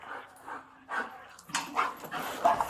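A police dog on a search sniffs and pants in short, irregular bursts, fairly close, with faint whimpers mixed in.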